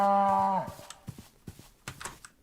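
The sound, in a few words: cow mooing in Minecraft video game (LOTR mod)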